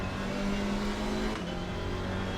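A small Alpine race car engine in Gran Turismo 4 at Mount Panorama, revving hard and steady with a shifting pitch partway through, loud and close with no talk.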